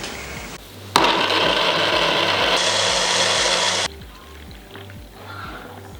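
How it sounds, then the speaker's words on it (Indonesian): A kitchen blender grinds peeled, chopped turmeric root, a loud steady whirring roar that starts abruptly, runs for about three seconds and cuts off, with a lower motor hum before and after. "kita cuci bersih kunyit, terus kita kupas, kita potong-potong, setelah itu kita blender"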